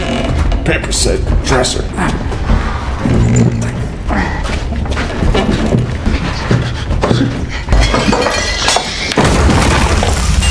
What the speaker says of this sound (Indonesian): akibat Tim mengalami encok, peti ini terjatuh dan pecah